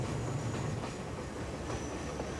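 A packed second-class carriage rolls along a Sri Lankan railway with a steady, loud rumble and a rhythmic clickety-clack of wheels on track, with no talk.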